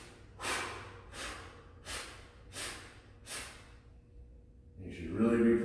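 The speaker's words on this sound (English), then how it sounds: "We're going to do 5 quick exhales" During a stretching class, a person gives five quick, forceful breaths out through the nose, evenly spaced and close. Rustling and a voice follow at the end.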